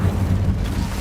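Incendio fire spell cast in the Hogwarts Legacy game at Rookwood Castle, a brief, dense low whooshing roar with a muffled booming body, loud and close, with no voices.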